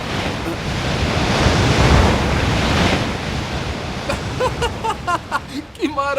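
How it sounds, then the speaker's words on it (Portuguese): Sea waves wash onto the shore in a broad, rushing surge that swells and recedes, heard close with wind noise, while a voice speaks over the latter part. "Este é o mar da minha terra natal."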